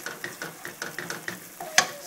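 Chicken curry ingredients being stirred in a pot, a steady rhythm of scraping strokes about every fifth of a second over a low sizzle, ending with a sharper clink.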